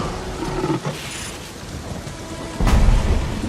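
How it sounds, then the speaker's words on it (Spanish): Heavy rain pours steadily on a surface as thunder rumbles, with a loud, deep crack of thunder rolling in near the end. "Pero no podrán guarecerse de esta tormenta."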